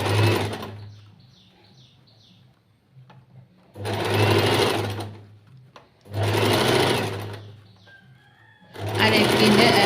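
Sewing machine stitching the side of the canvas lining along a churidhar neckline, running in three loud, steady bursts separated by quieter pauses with faint handling noise.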